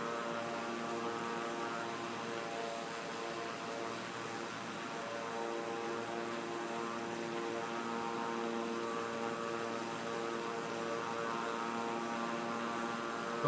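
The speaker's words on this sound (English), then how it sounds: "so we'll be taking another general aviation plane" A general aviation propeller plane in flight drones with a steady engine and propeller hum and layered tonal whine, constant and unbroken, with no voices.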